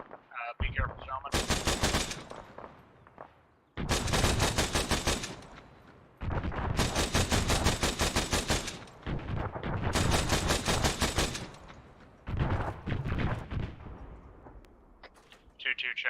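Bursts of automatic grenade launcher fire sound from a town in a military video game, several long rapid-fire volleys of loud booming shots separated by short gaps.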